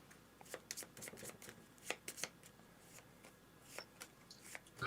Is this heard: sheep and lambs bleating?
no